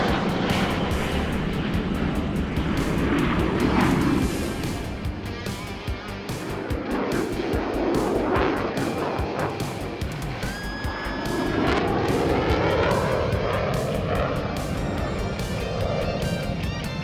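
A fighter jet's engine roars loud and continuous during flight, with the broadband rush swelling and easing slightly as the plane pitches up through aerobatic maneuvers.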